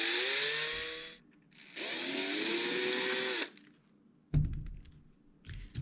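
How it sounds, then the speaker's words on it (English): A power drill boring holes through a bird feeder tube: two sustained, close, high-pitched whining runs separated by a short pause, followed by a few dull knocks and clunks. "So those holes that you've just drilled"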